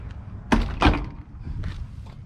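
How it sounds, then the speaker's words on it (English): Two solid thunks of the doors on an OBS Chevrolet Silverado truck being shut, close by, about a third of a second apart, followed by quieter rustling. "I'm gonna shut the doors."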